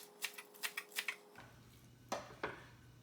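A knife chops onions on a cutting board in a quick run of about six close, crisp knocks, then a pause before two more scattered cuts.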